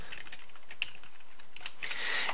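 Arrow keys on a computer keyboard are tapped in a quick irregular series of light plastic clicks, close and clear, with a faster cluster of presses toward the end.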